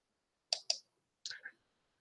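Two sharp mouse clicks in quick succession, then a second pair of softer clicks a moment later, close and isolated with no talking.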